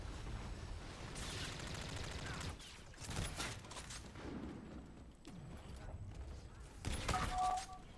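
Rapid bursts of sniper and automatic gunfire in a first-person shooter video game, sharp cracks in quick clusters with a louder volley near the end, over steady background game noise.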